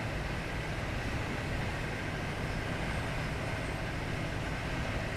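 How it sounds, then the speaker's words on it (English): A Pendolino train rushes past in Train Simulator 2021 as a steady, loud, broadband roar of wheels and air that holds evenly throughout without breaks, heard close by. "got a nice Pendo coming past us"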